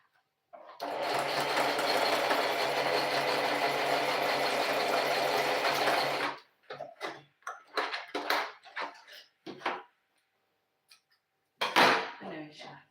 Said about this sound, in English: So now that I am done stitching